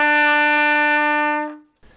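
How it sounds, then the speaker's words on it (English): A single sustained trumpet note E, fingered with the first and second valves, sounds clear and steady for about a second and a half before being released, with no talking. "To play E, you press down your first valve and your second valve,"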